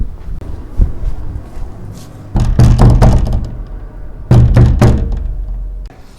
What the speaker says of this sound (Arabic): الباب بيخبط